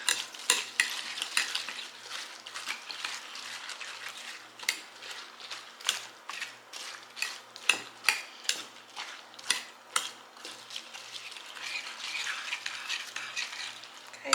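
Baked oatmeal ingredients with egg being stirred in a bowl for an apple cinnamon breakfast, a steady run of scraping, clicking spoon strokes close up with no talking.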